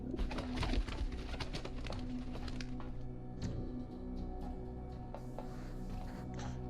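Pigeons coo inside The Talos Principle VR, a few soft calls set against a steady ambient hum and the scattered clatter of game sounds, with no speech.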